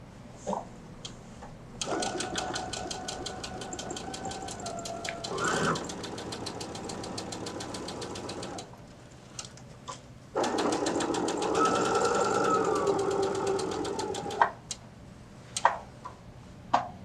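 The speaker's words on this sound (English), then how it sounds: "we could top stitch across the top of this" A sewing machine top stitching across a zipper pouch runs in two close, rapid bursts of needle chatter separated by a pause, followed by a few isolated clicks and thumps.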